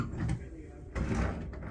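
Cabin drawers sliding open and shut aboard the Sapphire Princess cruise ship, a pair of rough scraping slides with a knock, close by and mixed with talk.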